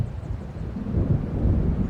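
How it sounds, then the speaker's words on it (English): Thunder from an approaching storm in Alan Wake rolls in as a deep, rumbling swell that builds gradually and stays heavy and close, with no voices. "It seems there's a storm coming"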